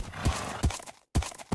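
A horse ridden in a video game speedrun clops along with a few heavy, evenly spaced hoofbeats, close and fairly loud, with a brief gap before the last steps.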